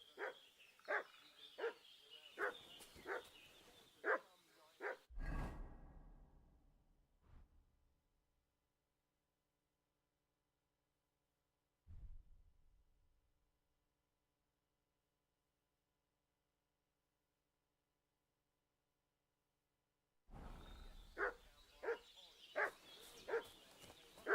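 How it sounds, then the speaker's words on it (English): Dog barking in Kingdom Come: Deliverance 2, a rapid run of sharp, fairly close barks, then a long stretch of near silence with a couple of dull thuds, before the barking starts again near the end. "What's that dog making such a fuss about?"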